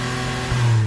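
A basic six-month-old petrol car's engine heard close up, a steady low hum that rises into a louder, stronger drone partway through as it accelerates, with no talk.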